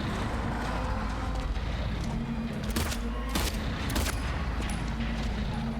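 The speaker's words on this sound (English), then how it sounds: "I don't know what else to do besides shoot him" Gunfire aimed at Pyramid Head in the Silent Hill 2 Remake video game, a couple of sharp shots a second or so apart over a dense, rumbling game ambience.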